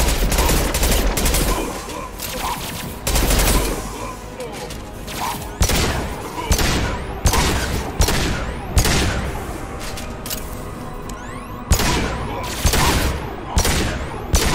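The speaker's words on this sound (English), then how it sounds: "Firing a high-impact shot." Gunfire from the Mass Effect 2 video game: loud, close bursts of rapid shots repeat in quick volleys with brief gaps, booming impacts mixed in throughout.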